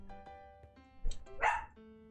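A pet dog barks in a short burst near the middle, a few sharp barks standing out over a steady background hum and faint game sounds.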